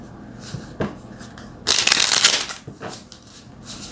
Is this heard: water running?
no